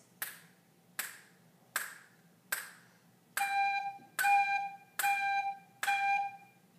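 A tin whistle sounds four steady quarter-note G's, each a clear, bright, sustained tone. Four sharp evenly spaced clicks come first, likely a count-in, then the close whistle notes follow at the same even pace.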